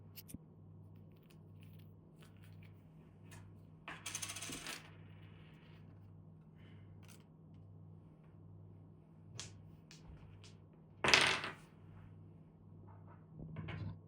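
Small metal coins being counted out and set down during a solo game of Luthier: a few brief clinking bursts, close and fairly faint, over a steady low hum.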